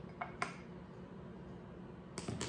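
Capers and anchovy paste get stirred together with a metal utensil in a bowl, giving faint scraping and a couple of light clinks against the dish over quiet room noise.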